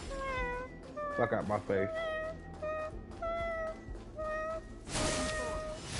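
A cake cat in the video game Honkai Star Rail gives a string of high, drawn-out meows, one after another and fairly loud, while someone talks over them.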